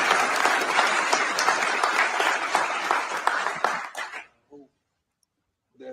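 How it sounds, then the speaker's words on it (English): A studio audience applauds in a full, even burst for about four seconds. The clapping then cuts off sharply, leaving a brief soft sound and near silence. "So just clap it up, TC"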